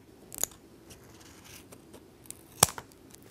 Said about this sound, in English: Take your bike tire tube, and what you want to do is we want to cut it just a little bit bigger than the tube